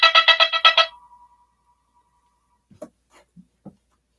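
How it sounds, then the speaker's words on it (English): A phone ringtone rings in a quick run of about six bright, rapid pulses, then trails off, followed by faint scattered clicks and taps in an otherwise quiet room. "Oops, I gotta accept my phone call."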